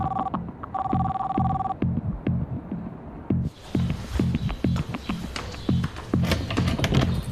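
Telephone ringing unanswered in repeated electronic tones, then giving way to a steady throbbing pulse beneath dense, rising noise, fairly loud throughout.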